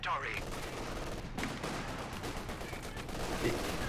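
Gunfire and a rifle grenade explosion in a tactical war video game, dense bursts of rapid shots and booming impacts layered into a continuous loud battle din.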